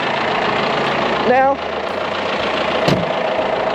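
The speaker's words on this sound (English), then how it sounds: "Pop out my trusty dusty tractor here." A farm tractor engine idles with a steady, loud low rumble throughout, close by. Someone speaks briefly over it.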